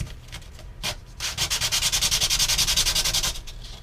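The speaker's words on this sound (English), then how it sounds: "it can take you a minute to sand it enough" Sanding the balsa wood of a Guillow DC-3 model plane wing by hand: a few scattered scrapes, then a steady run of rapid, rhythmic back-and-forth rasping strokes, close and loud, with no talk.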